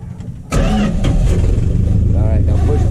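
A 1977 Dodge W200 truck engine cranks and fires abruptly after a brief quiet moment, then settles into a loud, close, steady rumbling idle, with a voice speaking briefly over it.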